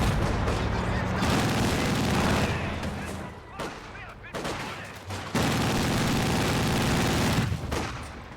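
MG42 machine gun firing in the Company of Heroes 2 video game: dense, loud bursts of rapid gunfire in two long stretches separated by a short lull, with battle noise layered around them.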